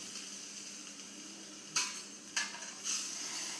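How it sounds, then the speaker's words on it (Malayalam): Chopped tomatoes go into a pan of frying spice masala, giving a soft steady sizzle broken by three bright bursts of spattering and stirring clatter in the later half, with no talking. "അതിലേക്ക് നമ്മൾ അരിഞ്ഞു വെച്ചിരിക്കുന്ന തക്കാളി ചേർത്ത് കൊടുക്കുക."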